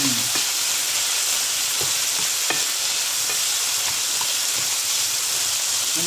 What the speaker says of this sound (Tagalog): Para maluto yung minced beef natin.